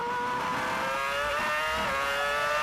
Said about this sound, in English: Ferrari engine working hard,